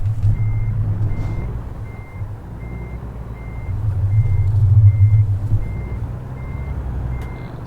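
A semi truck in American Truck Simulator backs up with a steady run of evenly spaced reversing beeps over a low, rumbling diesel idle, hauling a load of forklifts from Flagstaff to Santa Maria.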